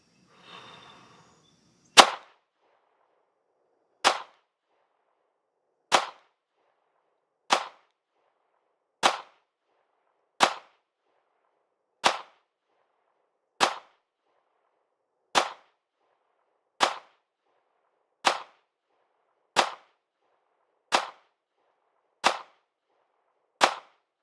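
A SIG P320 RX Compact pistol fires about fourteen loud, sharp shots at roughly 7 yards on a range, evenly spaced about one and a half seconds apart, with no talking.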